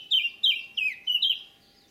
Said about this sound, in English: In fact, it's a blackcap, sometimes known as the nightingale of the north, because of its song